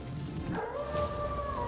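A puppy in a video game lets out a rising, drawn-out howl that swells mid-clip and holds over a steady bed of game music and ambience, with no talking.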